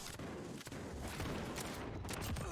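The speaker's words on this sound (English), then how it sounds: "what was that guy shooting at?" Bursts of gunfire in the video game Warzone, a dense continuous rattle of shots with dull booms, heard at a moderate distance with no talking over it.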